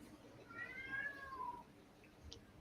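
A cat gives a single drawn-out meow that falls in pitch, faint and somewhat distant, over a low steady background hum.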